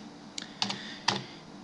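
Three quick bursts of keystrokes on a computer keyboard while PHP code is typed, close and fairly quiet, with a steady background hiss between the taps.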